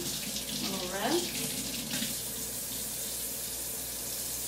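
Water runs from a kitchen tap as salmon fillets are rinsed under it, a steady rushing flow with a brief splashing swell near the start, moderately loud with no talking.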